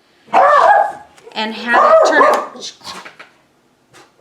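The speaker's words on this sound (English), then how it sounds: "Once again, my dogs are barking." Pet dogs indoors bark and yip in a few sharp bursts close by, mixed with a person's speech, then fade to quiet.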